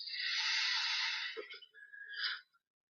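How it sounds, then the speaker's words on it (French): A deep breath in is drawn through the nose during guided breathing, a long airy hiss lasting over a second, then a shorter breathy rush, close and alone. "On prend maintenant une grande inspiration"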